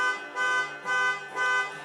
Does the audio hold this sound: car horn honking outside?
yes